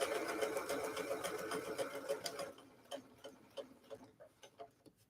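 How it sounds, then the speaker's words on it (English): A sewing machine stitches past a seam allowance, its dense mechanical whir running steadily at first, then breaking into slower, separate clicks and taps as the needle eases forward. "Sew past that seam allowance."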